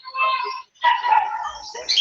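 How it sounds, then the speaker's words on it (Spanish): Several dogs bark and yip in the background while a voice talks over them. The barking comes in two bursts split by a short silence. "A lo mejor porque se escuchan ahí los perros de fondo"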